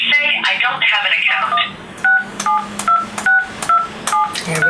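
Telephone keypad tones entering a phone number into an automated phone line, a brisk string of short evenly spaced beeps following a brief burst of other sound at the start.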